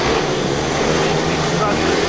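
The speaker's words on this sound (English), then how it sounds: "The bikes are revving away." Speedway motorcycles rev together at the start line of a National League meeting, a loud, continuous engine roar with a crowd-like wash behind it.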